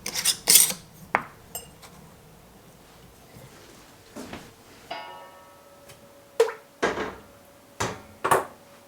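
Pint jars of homemade ketchup, lids and rings on, are set into a canner in a home kitchen, making about eight sharp glassy clinks and knocks at irregular intervals over a quiet background, with no talking.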